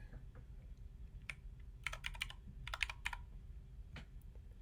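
Keystrokes on a computer keyboard while setting up a new person profile in Google Chrome, a few isolated taps then quick bursts of clicks over a faint steady hum, nearby and moderately quiet, with no talking.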